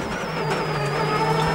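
Rally car at the 2009 Rally of Ireland braking hard with its wheels locked, a steady loud engine drone with a sustained high tonal whine running throughout, close and continuous.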